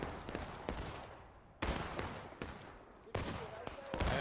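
Musket volleys crack out in a Civil War battle video game, with Union and Confederate lines trading fire. Sharp, heavy reports and scattered shots land irregularly over a rumbling background, some near and loud, others more distant.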